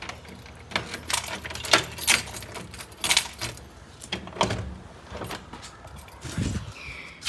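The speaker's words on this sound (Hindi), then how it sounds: "यही चाबी जो मैंने हाथ में ली।" A bunch of keys jangles in a hand, giving bursts of bright metallic clinks at an uneven rhythm, close and fairly loud, with a few soft handling knocks between them.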